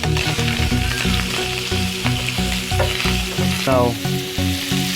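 Shrimp fry in a hot pan with a dense, continuous sizzle while being stirred, with scraping and clattering throughout and a brief spoken word.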